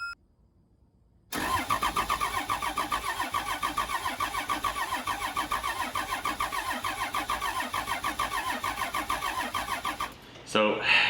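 An abandoned motorhome RV's engine is started after a short silence: loud, rhythmic cranking churns on for about nine seconds, then cuts off abruptly, followed by a brief scuffle.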